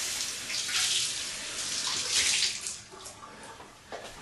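Water running and splashing as a sponge is wetted for a skip trowel finish on a sheetrock ceiling patch; a steady broad hiss with swells and drops, fairly close, with no voices.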